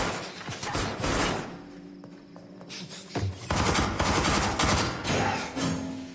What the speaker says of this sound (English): you really feel all the bullets firing